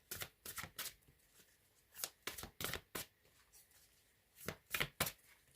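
Tarot cards are riffled and shuffled in short crisp bursts, about a dozen quick flutters spaced irregularly and close up, ending as a card is slipped into the deck.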